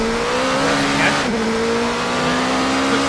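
A race car engine in a racing game drones loud and close as it is driven through a sequence of corners, the pitch holding steady, dipping briefly under braking and then climbing again, with faint tire noise beneath.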